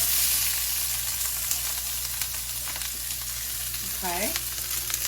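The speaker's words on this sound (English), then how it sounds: "I'm going to add a half of a white onion to my pan that is already preheated" Half a white onion sizzles steadily in a preheated pan of extra virgin olive oil, a dense close frying crackle with a brief soft word spoken near the end.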